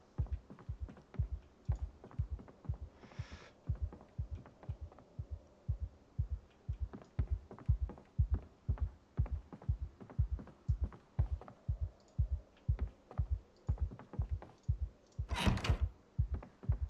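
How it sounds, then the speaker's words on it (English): A steady heartbeat thumps throughout the background in Project Zomboid, a regular low double pulse that keeps going unbroken, with a couple of faint brief noises on top and no talking. "makes it kind of exciting when you have that heartbeat in the background"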